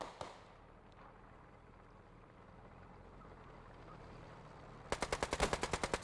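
Rapid bursts of gunfire and grenade blasts in a competitive team-based shooter match, a muffled distant rumble first, then a sharp close volley of evenly spaced loud cracks near the end.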